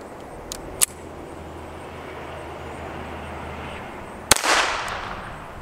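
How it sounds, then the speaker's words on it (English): Sharp .22 Long Rifle shots from a Walther P22 pistol striking a lead plate, two crisp cracks a few seconds apart over steady outdoor background noise, the second followed by a brief hiss. "We've got a 22 long rifle fired from this Walther P22."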